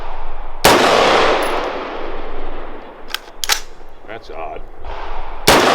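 Loud, sharp gunshots from a 5.56 rifle fitted with a suppressor mount, two close reports separated by several seconds, with a brief spoken remark and handling noise between them.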